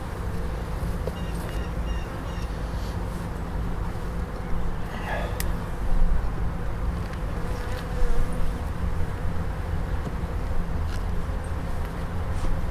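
Honeybees buzz steadily throughout an open hive while the brood chambers are inspected, a dense, continuous drone close by with a few louder swells as bees pass near, and no one speaking.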